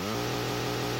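A chainsaw from the Dreamcast game The Typing of the Dead revs steadily with a loud, buzzing, continuous engine drone that holds through the whole moment without pause.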